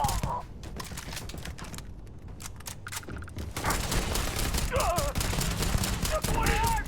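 Rapid bursts of gunfire from the video game Starfield, played on very hard mode, rattle densely over a loud combat background, with a speaking voice partly underneath.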